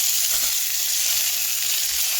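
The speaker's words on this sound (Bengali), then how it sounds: "ভালো করে ভেজে নেওয়ার পর টমেটোগুলো দিয়ে দিচ্ছি" Tomatoes sizzle in hot oil with dry chillies and whole peppercorns, a loud, steady crackling hiss close up with faint stirring scrapes beneath, and no talking.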